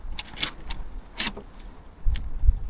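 Metal keys jangling close by while someone tries to open a frozen padlock in winter, several quick bright clinks in short clusters, with low thumps and handling noise toward the end.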